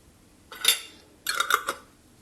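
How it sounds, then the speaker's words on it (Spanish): Glass jars filled with grapes are capped and screwed down hard, giving two short bursts of metal-lid-on-glass clinking and scraping, close and clear in a quiet kitchen. "Vamos a tapar muy bien nuestros botes, apretando bien fuerte."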